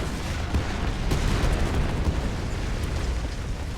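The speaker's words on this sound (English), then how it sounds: "We died to an artillery strike! I'm pretty sure it detonated our roof rack." Artillery strike detonating a vehicle's roof rack in a video game: a sustained, loud, broadband rumbling blast with scattered crackling pops, filling the whole moment with no talk.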